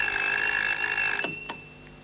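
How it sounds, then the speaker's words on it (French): An old-style telephone bell rings in a home, a loud sustained metallic ring that cuts off abruptly, followed by two short clicks. "Le téléphone n'a pas cessé de sonner de toute la matinée."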